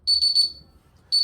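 A timer alarm goes off loud and close in three quick shrill beeps, falls silent for a moment, then starts a fourth beep.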